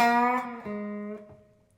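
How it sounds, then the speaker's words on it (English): An electric guitar sounds a sustained note that bends and wavers in pitch, plucked twice, then fades out, from a guitarist's part in a song. "We're going to bend this note a lot"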